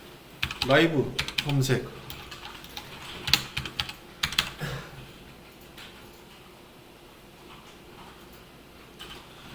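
Computer keyboard typing as Ctrl, Shift and P are pressed: quick bursts of clicky keystrokes close by, a few separate taps later, with a person speaking briefly over them.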